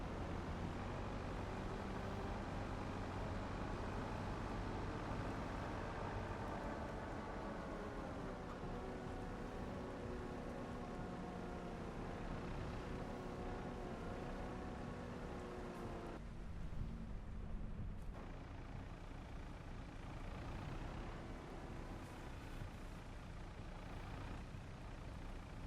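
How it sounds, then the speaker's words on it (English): A JCB machine in Farming Simulator 25 idles steadily, a continuous low engine drone holding throughout with no talk over it. "Somebody left the engine running on a JCB."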